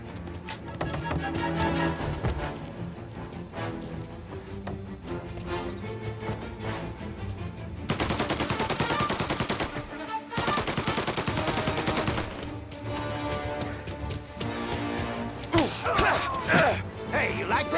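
Gunfire in the crime-era video game Mafia, rapid bursts of shots and heavier volleys crackling in clusters over a low background score, some sections dense and sustained, loud and close.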